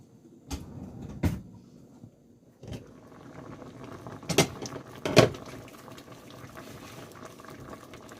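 A lid is set onto a cooking pot over simmering liquid, giving several sharp metallic clanks and knocks spread across a few seconds, with soft bubbling beneath.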